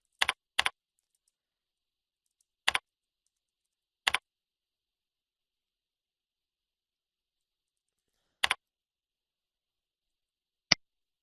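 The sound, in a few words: typing text on a computer keyboard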